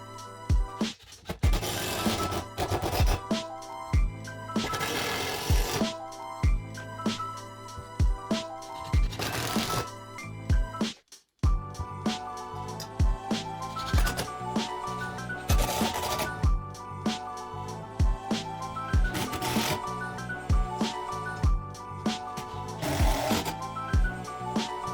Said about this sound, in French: Donc là j'emploie la clé à choc